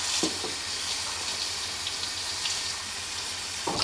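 Water runs steadily over a styrofoam incubator being washed with Dawn dish soap, a continuous close splashing wash with a few brief handling knocks near the start and end.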